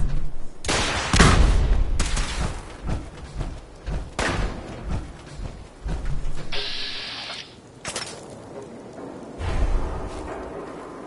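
Sniper gunfire in Fallout 4: a series of sharp, heavy shots and thumps arrives at irregular intervals, some loud and close, mixed with clattering and a brief mechanical whir.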